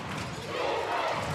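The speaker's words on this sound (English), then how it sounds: "Now the crowd has come to life for Madison." Crowd cheering at a regional final high school basketball game between Liberty-Eylau and Dallas Madison, a broad steady roar of many voices that swells louder in the second half.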